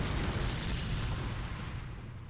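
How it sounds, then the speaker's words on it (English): Heavy, rumbling explosion from enemies blowing up on death in Dark Souls III with the Cinders mod, a dense, loud boom that slowly decays. "they hit really hard and they also explode when they die"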